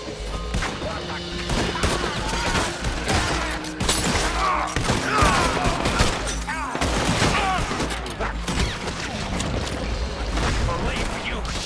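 Gunfire from a shootout in the video game Red Dead Redemption 2, dense bursts of loud shots and booms overlapping across the whole stretch, with shouting voices mixed among the blasts.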